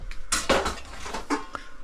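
Ceramic plates and bowls clink and clatter several times in quick succession at close range in a home kitchen, with brief pauses between the knocks.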